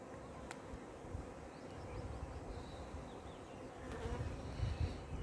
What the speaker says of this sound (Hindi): ये छोटी मक्खी